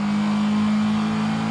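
A car engine in the racing game Forza revs hard and steady with a strong sustained tone, loud and continuous throughout with no talking.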